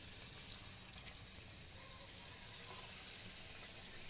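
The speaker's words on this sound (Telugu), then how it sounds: "వేడిగా ఉన్న నూనెలో వేయండి." Raw banana bajji batter drops into hot oil and fries with a faint, steady sizzle and soft bubbling crackle. A couple of tiny pops stand out over the low, continuous hiss.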